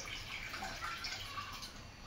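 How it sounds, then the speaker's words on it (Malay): Water poured into a hot pan: a faint, continuous watery hiss and trickle, quiet and steady throughout with no talking. "bila kita punya pan tu dah panas lah agaknya, kita masukkan air ni"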